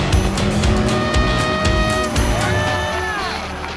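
A Cummins-powered Dodge RAM 3500 pickup truck drives past loudly and close, its engine roaring with rising and falling pitch and a whining tire note, with no one talking.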